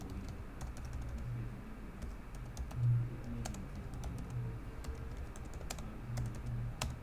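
Rapid clicking of a computer keyboard as text is typed into a WordPress site editor, an irregular run of close, crisp keystrokes with a few heavier thumps, no voices.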